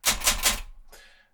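An Olympia Traveller De Luxe typewriter gives three quick, loud keystrokes in a tight rhythm. A softer fourth strike follows after a short gap, close up and with no voices.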